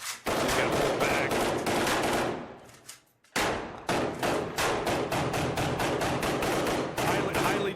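Rapid gunfire rattles through a firefight in Iraq, dense bursts of sharp shots close by that pause briefly and then resume just as fast and loud.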